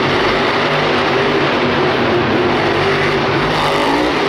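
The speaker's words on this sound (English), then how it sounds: "Adam Anderson airing this truck out" A monster truck roars through a freestyle run at a Monster Jam stadium event in Houston, its engine a loud, steady, dense drone that stays unbroken throughout.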